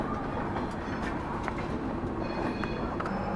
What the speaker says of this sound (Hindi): इधर कोई तो ट्रेन गाज़ियाबाद में अप्रोच कर रही है